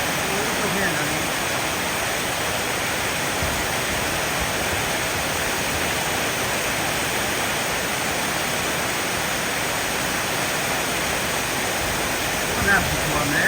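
Very heavy downpour in Vientiane, a dense steady roar of rain lasting throughout, loud and unbroken like a waterfall, with a faint brief bump near the end.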